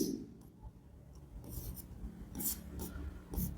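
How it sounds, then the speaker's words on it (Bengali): Chalk or marker scratching out a sentence on a classroom board, several short raspy strokes in irregular bursts, close and fairly quiet with no talk. "আমি এখানে সেন্টেন্স লিখলাম"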